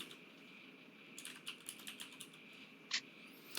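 Keys tap on a computer keyboard in a quiet room: a soft, close run of uneven clicks with one sharper press near the end, and nobody speaking.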